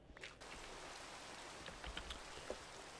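Rain falling in a Minecraft-like game world at sunset, a soft steady hiss of drops with a few faint taps and patters, quiet and continuous, no voices.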